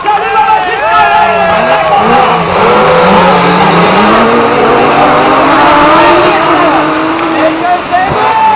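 Autocross race cars at La Frenaye competing in the D2 Libre class of a French championship, engines loud and continuous with rising and falling revs, close and overlapping, with a commentator talking over the racing.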